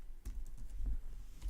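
Someone typing on a computer keyboard, a run of close, crisp key taps in uneven clusters, with no voices.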